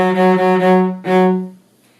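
A bowed cello sounds a sustained low F sharp on the D string in two strokes, the second starting after a short break, then fades away.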